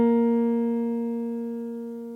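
Sustained concert B flat, the written C of a tenor saxophone, held as a steady, clean pitched tone with strong harmonics that slowly fades in loudness over about two seconds.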